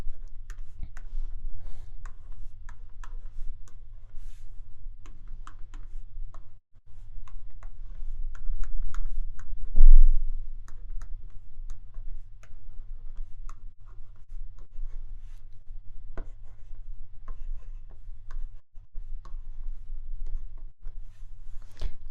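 A pen writes the alphabet by hand on paper, with steady scratchy strokes and light taps close up, repeating in irregular bursts with brief pauses between letters and a low hum underneath, no voices.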